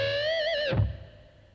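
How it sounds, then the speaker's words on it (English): A distorted electric guitar note bent up from the 3rd fret of the low E string, ringing with a squealing pinched harmonic that wavers with vibrato, then drops into a short low thud and fades; heard alone. "bend up from the 3rd fret of the low E string and try and grab a pinched harmonic"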